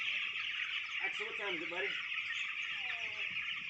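Many chicks peep and cluck steadily in a dense, continuous chorus throughout, a flock of about 2,000 being moved to pasture on a farm, with a voice speaking briefly over them.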